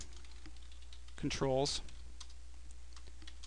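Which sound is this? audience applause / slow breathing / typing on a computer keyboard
typing on a computer keyboard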